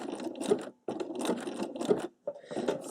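A sewing machine stitching satin-stitch tulips on fabric, fast rattling runs of stitches broken by brief pauses as the fabric is turned, close and steady with no talking.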